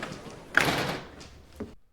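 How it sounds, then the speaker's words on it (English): A door in a TV drama shuts with one solid thud and a short following knock, set against spoken dialogue. "Close the door, Bob."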